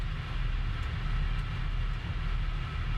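A train accelerating in Train Sim World 2, with the throttle being raised gently to avoid wheel spin, giving a steady, loud, low engine drone and rolling rumble that holds even throughout.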